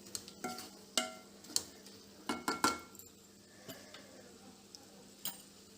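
A spoon stirring tomato, onion, coriander and fenugreek leaves in a pan for a South Indian curry, with a scatter of light clinks and scrapes at an irregular pace over a faint sizzle.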